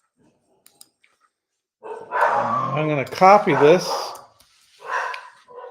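A dog barks and growls in several loud, close bursts, mixed with and followed by someone talking.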